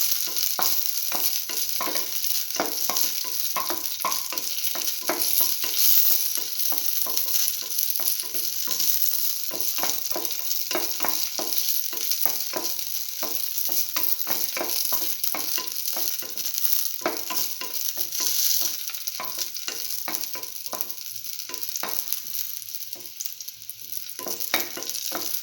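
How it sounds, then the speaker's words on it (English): Raisins sizzle in a hot pan under a continuous frying hiss, with rapid, constant scraping and tapping of a stirring utensil throughout, moderately quiet and with no talking. "Until the raisins pop up."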